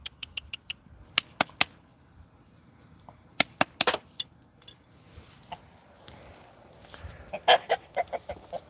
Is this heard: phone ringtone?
no